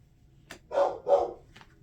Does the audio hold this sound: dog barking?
yes